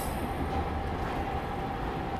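A Garib Rath Express train runs near Jalandhar City Junction, giving a steady, moderately quiet rumble of wheels and carriages with a faint high whine and no talking.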